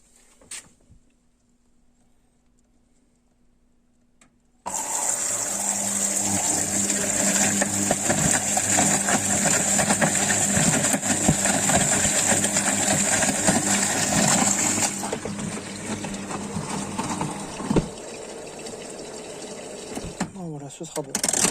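A Candy washing machine on a 70-degree white wash sits quiet, then switches on and runs a loud, steady whirring pump and water-fill noise for about ten seconds before it drops lower, with clicks near the end.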